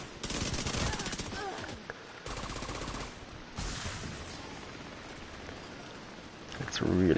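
Navy MP5 submachine gun in the shooter game The Division 2, rapid bursts of automatic fire with crackling rain-like texture, loud stretches broken by short pauses and a final burst.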